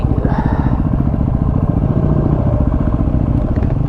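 Several Yamaha WR250R dirt bikes idle and rev close by in Sydney, parked on a footpath, their engines rattling steadily and loudly for the whole stretch with no gaps.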